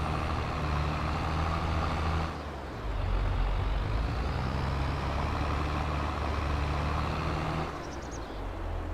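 Heavy truck engine droning steadily in Farming Simulator 22 on the Pacific Northwest map, a loud continuous low rumble with a brief shift in tone partway through and a faint air-brake hiss near the end.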